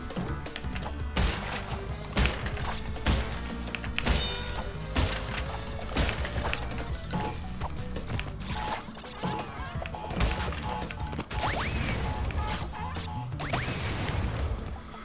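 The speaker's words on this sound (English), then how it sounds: "just want to make sure I get all the boxes destroyed" Wooden crates smashing in Crash Bandicoot 2: Cortex Strikes Back (N. Sane Trilogy), repeated sharp cracks and thwacks at an irregular pace over game music and effects.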